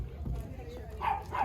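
A dog playing fetch gives a couple of short, close barks, with a person talking over them.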